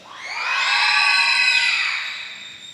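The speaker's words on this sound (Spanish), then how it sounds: "ellos están gritando de alegría por lo que Dios está haciendo en sus corazones" A group of young scouts in a church shouts for joy in one sustained, high-pitched burst that swells and fades over a couple of seconds.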